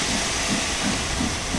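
Continuous steam hiss jetting from the open cylinder cocks of a steam locomotive in Train Sim World 5, steady and loud throughout with faint rhythmic low pulses underneath.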